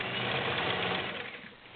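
Kenmore 1750 sewing machine running a straight stitch on a regular piece of fabric: a steady, fast, continuous mechanical whir with a rapid needle rhythm, close and fairly loud, easing slightly toward the end.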